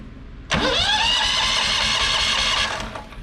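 A car engine cranks and catches after a short quiet pause, then settles into a loud, steady idle close by before tapering off near the end.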